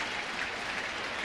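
A baseball stadium crowd applauds an outfielder's diving attempt at a catch in a Cubs at Cardinals game, steady dense clapping and cheering from a large distant crowd with no pauses.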